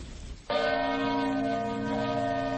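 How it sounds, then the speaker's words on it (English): The Congregational Church bell in Plymouth, Vermont tolls the hour. A single heavy strike rings out over a faint hiss, then a rich, humming tone hangs and slowly decays, fairly distant and alone. "the bell of the Congregational Church in Plymouth, Vermont tolls the hour"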